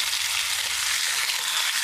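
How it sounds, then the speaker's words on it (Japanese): Tosa akaushi wagyu beef sizzling in a small frying pan, a steady close hiss of searing fat with no voices. "ではお肉焼いていきます。"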